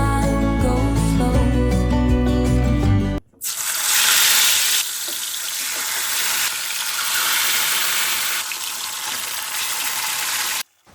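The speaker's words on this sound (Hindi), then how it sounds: "एक तरफ मैंने फ़िश को फ्राई होने के लिए रख दिया है" Fish frying in a pan gives a steady, close, loud sizzle that runs for several seconds with a brief break, after soft music at the start; nobody speaks.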